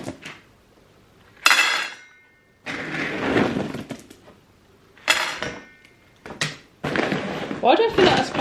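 Dry dog kibble poured from a scoop into a bowl in a home kitchen, two separate bursts of rattling pellets separated by a person talking, close and fairly loud.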